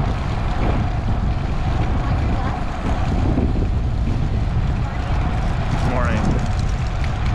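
Steady, heavy wind roars and buffets the microphone throughout as cyclists ride into a headwind on a rural road during a bicycle rally, a faint voice buried under the rush.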